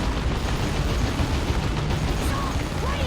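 A Capillary Tower slams down in a Dawn of War 2 battle with a dense, continuous rumble of explosions and mechanical battle noise, loud and sustained.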